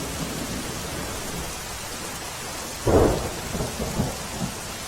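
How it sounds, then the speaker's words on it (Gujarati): Heavy rain pours in Ahmedabad as a dense, steady hiss, and one deep thunder rumble swells in the middle before fading back under the downpour. "અમદાવાદમાં છેલ્લા કેટલાક દિવસોના વિરામ બાદ વરસાદ 5 દિવસથી વરસી રહ્યો છે"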